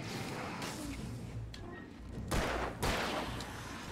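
Gunfire in the Alan Wake video game, in a forest level, comes as a few sharp bursts of shots over a rough, rumbling background, with no talk.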